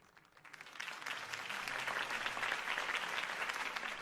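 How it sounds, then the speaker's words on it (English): Crowd applause in a Batman video game rises quickly from near silence into sustained, dense clapping that holds steady to the end. "could have heard that applause"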